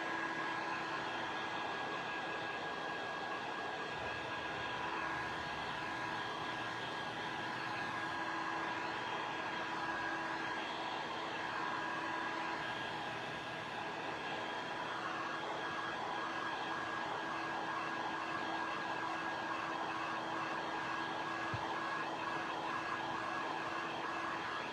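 A hair dryer blows steadily over fresh paint on wooden shims, a constant close whooshing hum with a faint steady whine, unbroken for the whole stretch.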